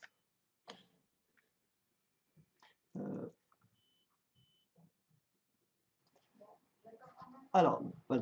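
A dog whimpers and growls in short bursts in a quiet room, with soft ticking and scattered rustles between the sounds and a louder stretch of noise near the end.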